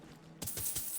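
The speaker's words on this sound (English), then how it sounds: "Some offerings in the form of coins." Coins picked up in BioShock Infinite: a short, bright metallic jingle of several clinking coins that starts abruptly after a quiet moment and settles within a fraction of a second.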